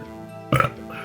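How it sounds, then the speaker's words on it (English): A short, loud belch bursts out midway through a brief moment of quiet in a Phoenix Wright courtroom game, rising suddenly and then fading. "That was a belch."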